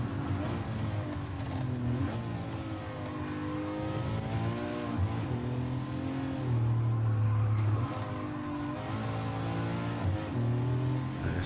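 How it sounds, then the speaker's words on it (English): A Ferrari racing engine in Gran Turismo 7 revs hard and climbs through the gears in repeated rising sweeps, loud and close, with a deeper held note partway through and no talk. "that engine revs beautifully well in first"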